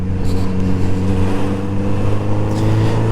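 A Kawasaki Z900RS motorcycle, 2019 model, engine running with a loud, steady low-pitched rumble and strong engine harmonics, holding fairly even for about three seconds with slight variations.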